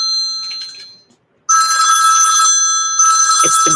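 A telephone rings loudly nearby, an electronic bell trill in two bursts separated by a short silence, with a faint clatter at the end of the second ring.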